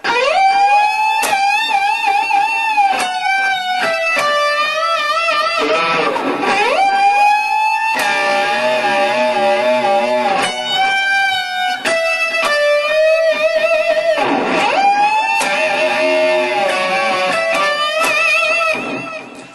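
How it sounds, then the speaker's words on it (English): An electric guitar with a slightly distorted tone sustains a note at the 15th fret of the B string, bent with heavy, wide vibrato. The note is played loudly and repeatedly over about twenty seconds. "we're going to go to the 15th fret B string and we're going to apply some heavy vibrato once again."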